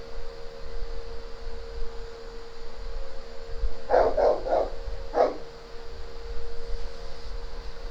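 A dog barks a few times around the middle, a short cluster of three quick barks followed by a single bark, moderately close over a steady background hum and hiss.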